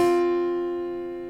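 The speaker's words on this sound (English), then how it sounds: "the fourth sounds like this" Two steady notes a perfect fourth apart struck together and left to ring, decaying slowly after a brief bright attack.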